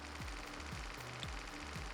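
A jackhammer in the sci-fi video game Occupy Mars hammers in a fast, even mechanical pulse, with low thumps repeating roughly twice a second, heard faint and steady with no talking.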